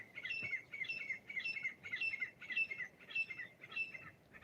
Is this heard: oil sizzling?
no